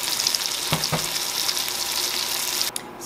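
Pork chops browning in a hot frying pan give a steady, close sizzle, with a couple of brief clatters near the middle and a sharp break near the end.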